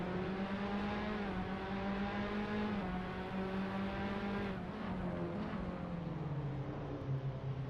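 Onboard Formula race car engine in a racing video game, a loud steady high-pitched whine with shifting revs held throughout, dipping slightly through a right-hand corner.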